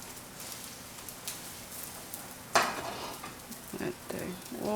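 A sweet potato leaf pancake frying in oil in a pan, with a continuous sizzle, a few scrapes and clinks of a utensil, and a louder burst of crackling partway through as oil is added.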